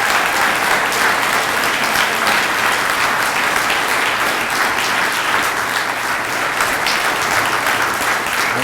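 Sustained, dense applause from a conference audience welcoming a keynote speaker, steady clapping filling the room throughout with little crowd voice.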